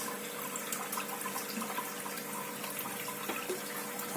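Water drains out of a turtle aquarium with a steady close trickling and splashing rush, continuous and moderately loud with no talk over it.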